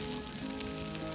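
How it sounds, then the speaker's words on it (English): Onions fry over a campfire in a pan outdoors, giving a steady, even sizzle with soft crackle at a moderate distance and no talking. "Those onions are doing a treat"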